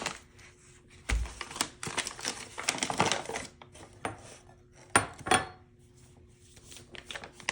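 Flour being measured and tipped into a mixing bowl for homemade gingerbread cookie dough, heard as irregular scraping, tapping and rustling bursts with quieter pauses in between, close up and with no talk.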